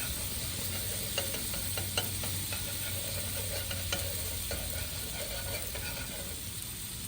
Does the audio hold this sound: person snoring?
no